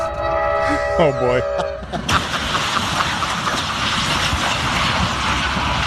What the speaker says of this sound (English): A car carrier stuck on the tracks, hit by an Amtrak commuter train